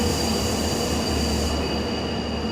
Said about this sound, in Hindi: पीछे एक ट्रेन आ रही है।